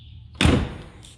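The door of a 1969 Opel GT shuts with a single close, solid thunk that fades quickly into a quiet room.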